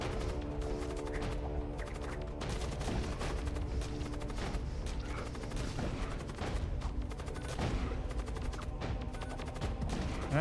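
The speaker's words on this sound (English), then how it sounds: "so you shoot at shields" Ship weapons in the space game Void War pound enemy shields in a dense, unbroken barrage of rapid impacts and blasts, layered over sustained tonal game audio from start to finish.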